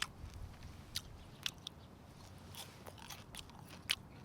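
Fried lake trout dipped in hot sauce being bitten and chewed, quiet crisp crunches and a few sharper bites spaced irregularly over soft mouth noise, close up with no talk.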